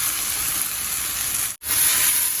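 Mashed roasted aubergine bharta sizzles and hisses steadily in a hot pan, a bright continuous frying crackle broken by one brief gap near the end.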